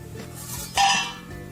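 A metal plate cover is lifted off a pan of ragi roti frying on the stove, giving a sudden bright clatter and scrape midway over a low, steady kitchen background.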